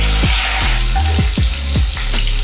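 Whole spices, cardamom pods and a dried red chilli among them, fry in hot oil with a loud, continuous sizzle, broken by several sharp pops and spatters and the scrape of stirring, and no talking.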